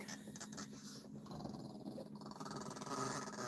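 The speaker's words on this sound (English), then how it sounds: "she's going to growl" Little One, a small dog living in a converted school bus, growls in a long, low, rolling rumble up close, swelling and easing over several seconds with no talking over it.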